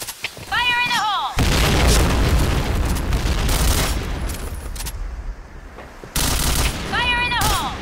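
In the shooter game Point Blank, a grenade explosion booms amid sustained bursts of gunfire, loud and dense, with short electronic chirps and game voice callouts at the start and end.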